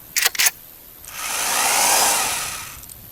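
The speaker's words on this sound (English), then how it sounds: "It's a sweet drill I found." An old cordless power drill running on 25-year-old batteries whirs up in one sustained burst lasting about a second and a half, preceded by a few short clacks.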